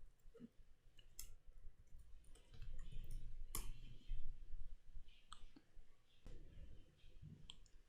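Sparse, irregular keyboard clicks from someone typing a search into the Chrome browser on a Windows computer, close and fairly faint, with a few sharper isolated taps spread over several seconds.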